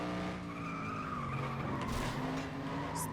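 Race car in FlatOut 2 skidding with sustained tire squeal over a droning, revving engine, loud and continuous throughout with no voices.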